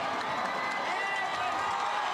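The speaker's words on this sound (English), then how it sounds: "The McCullum faithful on their feet and cheering." A home crowd at a McCollum high school football game at Memorial Stadium cheers a made extra point, a dense, steady roar of many voices filling the stands at moderate distance.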